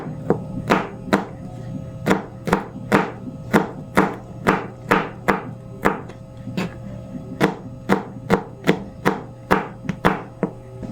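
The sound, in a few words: knife chopping peeled garlic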